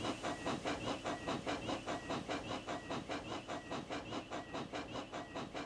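Toby the steam tram engine pulls away with an express train, giving a steady run of quick, regular chuffs layered with continuous steam hiss, evenly loud throughout with no voices.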